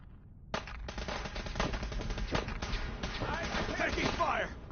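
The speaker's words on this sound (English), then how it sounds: "I'm taking fire!" Steady, dense automatic gunfire from a PS4 video game, with heavy bursts and booming shots packed together throughout, loud and continuous, with voices beneath it.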